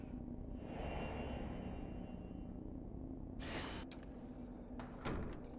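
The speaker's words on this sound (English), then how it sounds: "Hey, don't close the door on our face." A door closes in Fatal Frame: Maiden of Black Water with a short, sharp thud under a steady low game ambience, followed by a few faint clicks and knocks.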